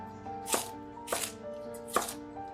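A knife chops vegetables into small pieces for dumpling filling, three sharp cuts against a board at uneven intervals over a steady background hum.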